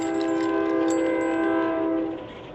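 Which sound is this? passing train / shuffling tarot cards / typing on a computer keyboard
passing train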